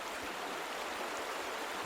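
A river flows steadily through a New Zealand region, its broad continuous water wash rushing with no breaks or voices.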